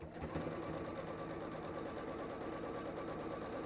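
A sewing machine runs steadily and close by as quilt borders are stitched on, its fast needle clatter continuous and even throughout with no pauses.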